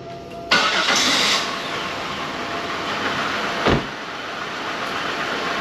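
A 1999 Buick cranks and catches with a sharp onset, then settles into a rough, uneven idle from two misfiring cylinders, with a brief louder burst midway, close and steady throughout.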